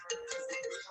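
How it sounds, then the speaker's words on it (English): A mobile phone rings during a school board meeting, a steady electronic ringtone tone with brighter repeating chirps layered above, at moderate level against room background. "Somebody's phone's ringing."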